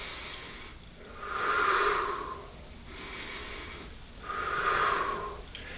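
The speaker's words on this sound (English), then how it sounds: "Deep breath in, exhale, turn." Two slow, deep breathing cycles during a golf mobility stretch with a resistance band, each a long, audible, airy inhale-exhale, close and alone with no talk.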